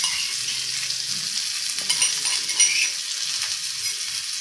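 Pounded garlic, coriander stems and green chilli thecha frying in a pan, giving a continuous close sizzle with soft stirring scrapes and a few light spoon taps, no talking.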